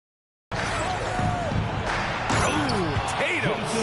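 Basketball video game dunk slamming home amid crowd roar and arena noise, a loud, dense broadcast bed with commentary-style talk layered over it after a brief silent start.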